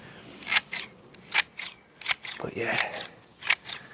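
Topiary bushes are trimmed with garden shears, giving several crisp, close snips spread unevenly across the moment, with rustling leaves and a brief spoken word in between.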